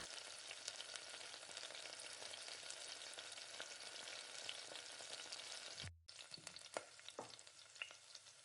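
Beaten egg being stirred into sautéed onions in a pan during home Tamil-style lunch cooking, a steady broadband sizzle with scraping stir strokes, briefly cut off near the end before the frying resumes with sharper clicks of the spoon.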